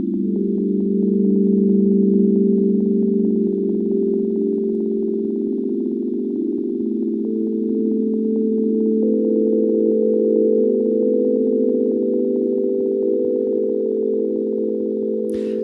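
A generative ambient synth patch in Ableton Live sustains a single D note with delay and reverb, a steady, smooth, even drone held loud and unbroken throughout, with no voices.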